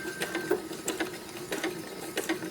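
Sewing machine stitching around a small mini Christmas stocking, a close, steady run of rapid mechanical needle clatter with a faint whine, continuous for a couple of seconds with no talking.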